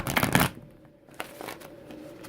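Tarot cards being shuffled close up, a short riffling burst lasting about half a second, followed by faint handling rustles and quiet room tone.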